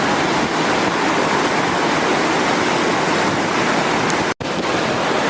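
A glacier-fed mountain river rushing down toward the Kali river makes a loud, continuous roar of water, dense and unbroken apart from one momentary dropout near the end.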